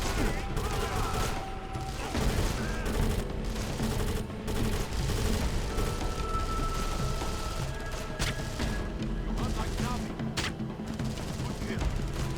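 Sustained gunfire rattles through a combat scene in James Cameron's Avatar: The Game, with dense, continuous shots and impacts over a busy game soundscape, and occasional talking.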